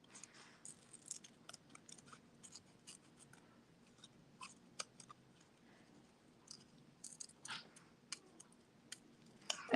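Scissors snip through paper at a craft table, the paper being turned more than the blades are moved. Short, quiet cuts and rustles come in irregular clusters, close and faint, with no talking.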